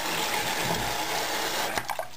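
Tap water runs in a steady, loud hiss into a sink while a belly button ring is washed, with a few light clinks near the end.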